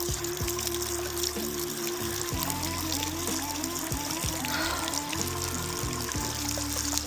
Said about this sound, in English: I feel like there should be more of a water flow than this maybe, or is this it?